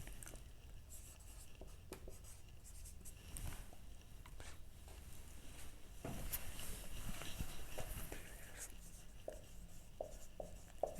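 Marker or chalk scratching across a board during a maths lesson on distributing identical coins, with irregular short strokes and taps, fairly quiet and steady, no talking.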